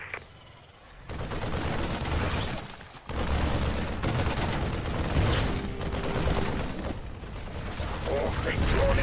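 Bursts of rapid automatic gunfire from units in the real-time strategy game StarCraft 2, Wings of Liberty campaign, rattling almost continuously at a steady loud level with mechanical clatter, a short pause partway through, and voices mixed in.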